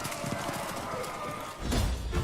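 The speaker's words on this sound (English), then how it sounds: "Meve spurred her horse. It neighed and reared" Horse hooves thudding at a gallop in Thronebreaker: The Witcher Tales, a rapid clip-clop that ends in a heavier burst of impact, with a voice talking over the sound.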